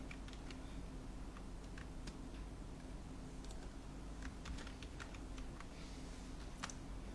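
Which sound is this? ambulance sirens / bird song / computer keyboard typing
computer keyboard typing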